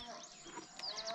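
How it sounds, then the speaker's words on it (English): A cow calls out in a single drawn-out, moaning moo on a farm, fairly close and loud, lasting about a second with a slightly rising tone. "Is that cow shouting?"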